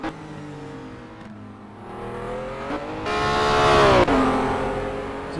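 Race cars in the Simraceway driving game roar past with rising, revving engine tones, one car building to a loud close pass before a brief dip, then continuing strongly.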